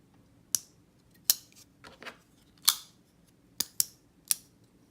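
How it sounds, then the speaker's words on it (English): A Spyderco Para 3 folding knife with an M4 steel blade snaps shut in sharp, bright metallic clicks, about seven quick close clicks spaced irregularly, loud and near, with no talking. "Even closing the knife, even closing it, there's a different sound."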